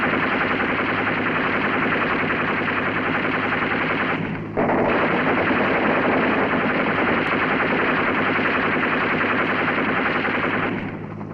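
Sustained automatic machine gun fire from a US Navy river patrol boat in the Mekong Delta, 1967, a loud, dense, continuous burst running nearly unbroken with one brief gap, no voices over it.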